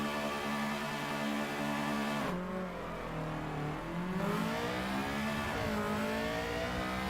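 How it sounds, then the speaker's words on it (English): An EG Honda Civic race car launches at a Tsukuba Civic Cup race. The engine is held at high revs, bogs as the clutch is dumped, then climbs through repeated revving pulls, loud and close throughout. "You need to get it in gear, Ollie, and get going. We're just going to dump the clutch."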